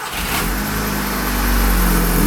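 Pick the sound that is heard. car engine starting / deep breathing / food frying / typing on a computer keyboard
car engine starting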